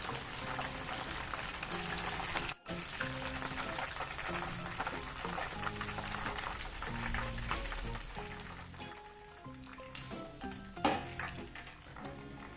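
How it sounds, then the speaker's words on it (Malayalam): Chicken kabab frying in hot oil, a steady close crackling sizzle that runs throughout, with faint music playing underneath and a few louder pops near the end. "ഇനി നമുക്ക് ബാക്കിയുള്ളതും കൂടെ ഇതുപോലെ ഫ്രൈ ചെയ്തെടുക്കാം കേട്ടോ"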